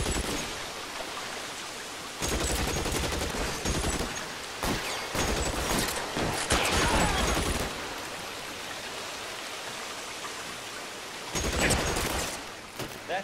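Heavy gunfire in the L.A. Noire video game, loud bursts of shots in several dense volleys, with quieter gaps between them.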